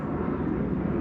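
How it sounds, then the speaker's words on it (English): A fixed-wing airplane drones steadily overhead, a continuous low engine rumble at moderate, even loudness, heard on open water. "that's a plane, 1 second."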